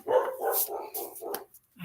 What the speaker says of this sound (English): My dog's out there.